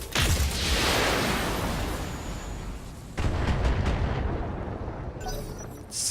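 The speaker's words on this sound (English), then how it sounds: "We can do PPC and LRM. That's going to do quite a bit of damage" Heavy PPC and LRM weapon fire in the mech combat game Battletech: loud booming blasts with a sharp burst at the start and another near three seconds, rumbling on throughout with no talk.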